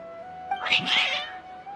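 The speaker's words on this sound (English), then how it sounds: "Your cats seem pretty worked up." Agitated cats in the Genshin Impact video game let out a single drawn-out, wavering meow, close and clear over a faint steady background tone.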